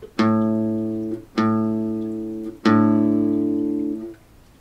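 Open A string plucked on an acoustic guitar, three times in a row, each note ringing clear and close with a slow decay before the next pluck, no voices.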